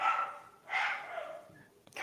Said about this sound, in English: Jason's dog in the background.